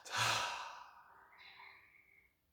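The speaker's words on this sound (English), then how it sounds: "and breathe it out" During a guided breathing meditation, one long, soft, breathy exhale starts strong, then slowly fades to quiet over a couple of seconds, alone and close.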